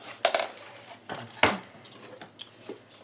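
Plastic parts of an iRobot Roomba 880 robot vacuum clack and snap as its filter is fitted back in: a few sharp, close knocks and clicks with brief scraping between them, no talking.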